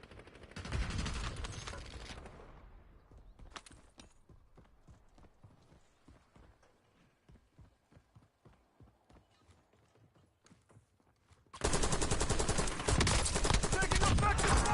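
Video game gunfire, dense loud bursts at the start and again near the end, with a rapid run of lighter clacking shots between them and no speech.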